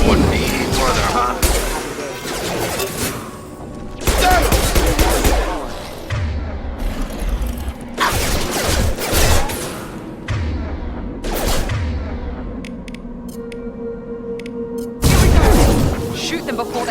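Gunfire crackles through a firefight in Mass Effect 2 Legendary Edition, with bursts of shots and heavy booms recurring every few seconds amid combat noise. Characters speak between the volleys.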